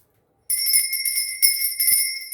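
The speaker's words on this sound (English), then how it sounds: "I'm going to be ringing this bell just to cleanse the space around us" A small hand bell, a little lady bell, rings sharply several times in quick succession, bright and close, with a short ringing decay after each strike and no talking.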